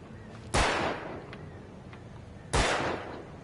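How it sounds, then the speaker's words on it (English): Two sharp gunshots fired at cans in Alan Wake, each a loud crack with a short decaying tail, spaced about two seconds apart against a quiet background. "Should I shoot the cans?"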